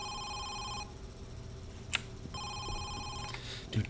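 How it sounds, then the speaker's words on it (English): An old-style telephone bell rings in a horror video game, two electronic ring bursts separated by a pause, moderately loud over low ambient hum. "nothing good ever comes from this phone ringing down here"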